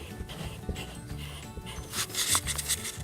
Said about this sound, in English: I'm just going to rub that light tracing out